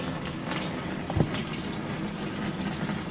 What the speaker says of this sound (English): There goes some fuel.